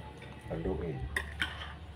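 Two quick metallic clinks of a utensil against a cooking pot while stirring a fish dish with seasoning, following a brief murmur of speech.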